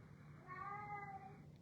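A cat wails faintly in the background, a single drawn-out, wavering caterwaul of about a second over a quiet indoor hum.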